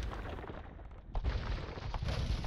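Bombard cannons firing in an Age of Empires II match, heavy booming blasts and a rumbling battle bed, with a sharper report about midway and another near the end.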